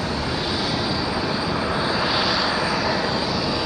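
An airplane on short final approach at RDU, Raleigh-Durham International Airport, gives a loud, steady engine roar that holds constant and close throughout, with no voices.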